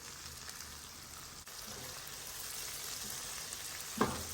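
Chili and garlic frying in a pot, a steady low sizzle running throughout with a single sharp clink near the end.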